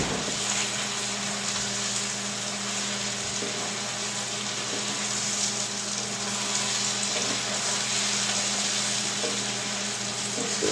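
Mushrooms cooking down in a pan for a chick'n fricassee, giving a steady, continuous hissing sizzle that stays close and even throughout with no talking.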